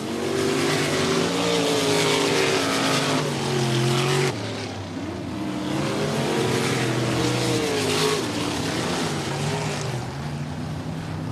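Race cars on the final lap at Stuart Raceway, a loud continuous engine roar with shifting, revving tones as the field comes out of the last corner, an abrupt change midway as cars pass.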